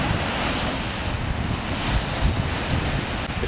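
Gulf beach surf washing steadily onto the sand, with waves rolling in and out under loud, constant wind, near and alone, with no voices.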